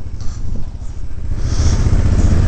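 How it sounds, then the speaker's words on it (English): Two adventure motorcycles rumble past close by, a loud low engine drone that swells toward the end. "Oh, 2 adventure bikes,"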